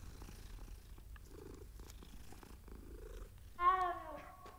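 A cat in the video game Hogwarts Legacy purrs softly and steadily in the foreground, then gives a brief, louder meow near the end.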